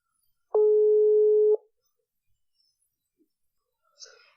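An outgoing telephone call tone sounds once while calling a podcast guest, a single steady electronic beep lasting about a second, followed by near silence and a faint voice at the end.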